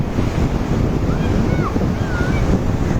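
Steady roar of Atlantic surf breaking on the beach at Sidi Kaouki, Morocco, loud and constant with heavy wind buffeting the microphone and a few faint distant bird calls.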